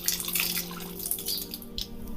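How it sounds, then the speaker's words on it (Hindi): Water from a tap trickling and splashing into cupped hands during wudu ablution, close drips and splashes over a faint steady hum. "इस तरह पानी लेना है।"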